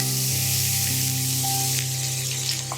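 Steady, bright sizzling of chopped scallions dropped into a hot wok of garlic-scallion oil, a continuous close crackle with a low hum underneath and no talking.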